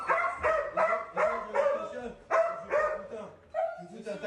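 A dog barking repeatedly at close range in sharp, evenly spaced bursts, with short yips between them.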